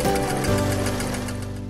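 A sewing machine stitches fabric for an Easter basket, its steady motor hum and rapid needle chatter running loud and continuous with no pause.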